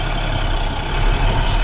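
A heavy truck's engine rumbles steadily at low revs while its clutch is released against a trailer held by the emergency brake, a continuous close, loud drone with no distinct change.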